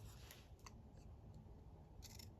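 Scissors snipping a strip of printed paper for a junk journal, a few quick crisp cuts close by, soft and alone without talk.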